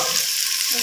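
Spices, including red chili and turmeric powder, fry in a pan with okra nearby, giving a steady, close sizzling hiss.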